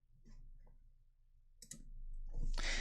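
A few light, quick clicks of calculator keys being pressed, close and quiet, followed by a brief rustle.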